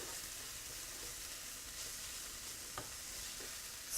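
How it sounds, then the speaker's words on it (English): Onions and peppers sizzling in a pan for spicy black bean dip while a wooden spoon stirs and scrapes the bottom, steady close frying hiss with a few soft scraping knocks, no talk. "use the onions and the peppers and your wooden spoon to pull off whatever's there"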